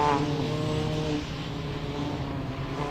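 A Caterham race car at Snetterton's 300 circuit, engine droning steadily and fairly loud as it rolls slowly up to the starting grid, with a slight swell near the start.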